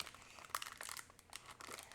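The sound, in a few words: knife stabbing open a crinkly package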